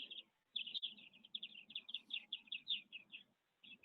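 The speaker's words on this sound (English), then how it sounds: "the bird song is getting a bit incessant" Small birds sing in rapid, continuous chirping phrases near a tree, bright twittering notes repeating almost without pause over a quiet low background.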